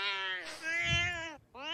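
A cat meows loudly and close, one long drawn-out wail followed by the start of another, with a brief low rumble beneath.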